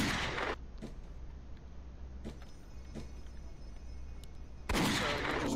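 A video game weapon fires by mistake: a few short, sharp shots and pops spaced irregularly, bracketed by louder bursts at the start and end over a quiet mechanical hum, with no talking.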